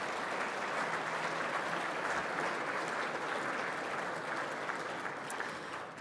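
Steady, full applause from a lecture audience welcoming special guests at the Bob Rose Lecture, continuing evenly for several seconds without a break.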